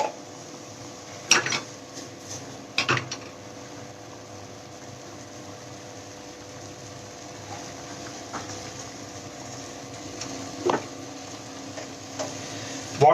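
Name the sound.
butter mixture being stirred and sizzling in a pan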